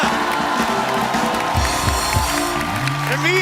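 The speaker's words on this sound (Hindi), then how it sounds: "रणवीर और वाणी के लिए जोरदार तालियां" Studio audience on an Indian TV comedy talk show applauds and cheers loudly for arriving guests Ranveer and Vaani, a dense steady wash of clapping and whoops with background music throughout.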